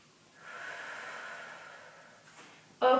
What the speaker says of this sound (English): Take a big deep breath here.